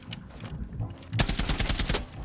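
Rainbow Six Siege gameplay: after a brief lull, a rapid burst of close automatic gunfire rattles out for about a second.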